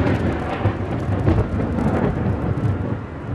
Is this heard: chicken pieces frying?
no